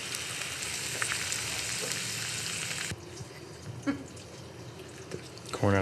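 Food sizzles in a non-stick skillet on a grill, a constant close crackling hiss with small pops and spatters that drops quieter partway through, ending with a brief clatter.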